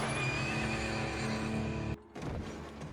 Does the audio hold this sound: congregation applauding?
no